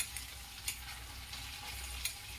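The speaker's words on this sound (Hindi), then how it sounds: "इसमें लहसुन, मिर्चा जिसे मैं मुमजस्ता में कूट ली हूँ उसे डालूंगी और इसे चलाऊंगी" Pounded garlic and chili fry in hot oil with ginger, a soft continuous sizzle broken by a few light scrapes of a spoon stirring the pan, close and fairly quiet.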